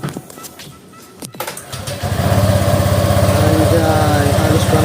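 A motorcycle with freshly replaced CVT rollers cranks and fires up, then settles into a loud, close, steady idle, with a voice heard briefly before the start.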